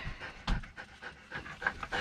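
A dog pants rapidly inside a rooftop tent, quick rhythmic huffs close to the listener, with a couple of stronger breaths standing out and no talking.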